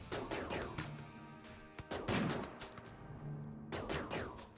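Rimworld combat gunfire rings out in rapid bursts of sharp cracks, with clustered volleys broken by brief pauses and no talking.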